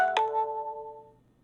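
A loud phone gives a short electronic ring that starts with a sharp click, holds a clear tone for about a second, then fades out, with no voice over it.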